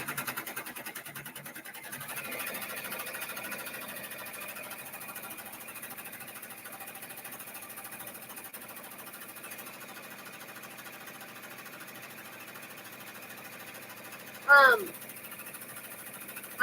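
Embroidery machine stitching a personalized zipper pouch, a steady mechanical whir and rapid stitching rattle running throughout at moderate level, with a brief louder clatter near the end.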